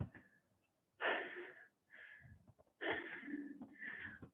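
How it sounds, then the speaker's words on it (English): Heavy, effortful breaths during lunge exercise, two loud bursts of huffing exhalation with quieter panting between, close and alone. "I am definitely breathing."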